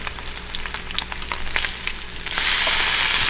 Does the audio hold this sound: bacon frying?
yes